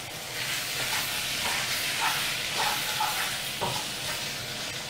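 Chopped onions frying in hot oil in a pan for a lamb pastry made with roti canai dough, a steady close sizzle and hiss with faint stirring scrapes.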